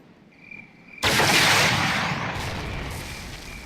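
A Javelin missile launches at a tank in the tactical shooter Ghost Recon Heroes Unleashed: a faint insect-like hum, then a sudden, loud, close blast that roars and slowly trails off.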